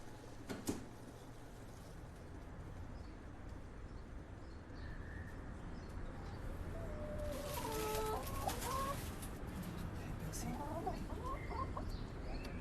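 A chicken kept in a city clucks in low bursts over steady background noise, with a few brief calls clustered toward the end.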